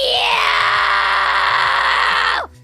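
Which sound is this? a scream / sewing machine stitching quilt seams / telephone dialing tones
a scream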